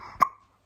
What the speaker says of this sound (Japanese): おお、しゃっくり。